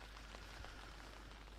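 Rain falls steadily at a disc golf course during a women's FPO round at the 2025 Ale Open, a soft, even patter on surfaces, faint and continuous with no talk.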